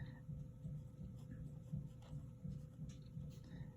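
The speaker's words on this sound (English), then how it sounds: "I'm going to write down what I just did here too" Pen scratching across paper as notes are written, soft repeated strokes at close range with a steady faint hum beneath.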